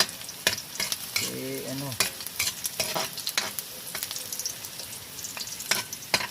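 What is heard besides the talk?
sautéing bamboo shoots (ginisang labong) in a pan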